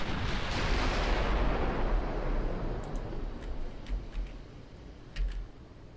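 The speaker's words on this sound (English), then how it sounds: "Here comes our incoming fire" Incoming heavy battleship gunfire in the naval game Ultimate Admiral Dreadnoughts: a loud, sustained rumbling boom that slowly fades, with scattered sharp ticks and a smaller thump near the end.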